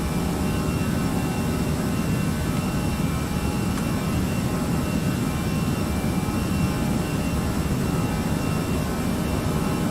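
Airbus A320 jet engines at climb power in Flight Simulator X make a steady, loud, unbroken broadband roar that holds at the same level throughout, with no talking.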